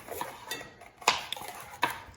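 A knife chops peppers on a cutting board in a home kitchen, a few sparse sharp taps with quiet pauses between them, close and fairly soft.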